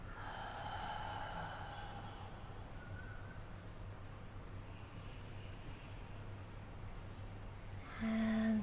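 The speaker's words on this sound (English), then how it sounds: "let's begin with a nice big inhale through the nose. Long exhale through the mouth" A long, slow breath drawn in through the nose and released out through the mouth during a guided morning meditation, soft and airy over a low steady hum, with a sharper intake near the end.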